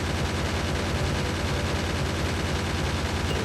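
Gunfire in a factory-building video game as a player shoots at biters: continuous, dense rapid shots blur into a steady loud roar that runs without a break throughout.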